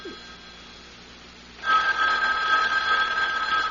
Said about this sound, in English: Well, Mrs. Greenway, aren't you going to answer it? Answer? The phone